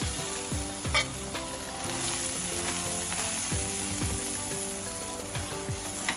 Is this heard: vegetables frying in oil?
yes